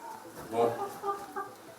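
A white chicken clucks softly in short bursts before a ritual sacrifice at a sacred baobab in Toumousseni, with quiet voices talking nearby.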